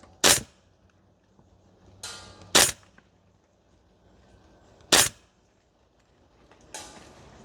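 Four sharp, well-spaced shots come from a Guns Modify 416A5 gas blowback airsoft rifle on an outdoor range. Each crack is loud and close, and some are followed by a brief mechanical clack.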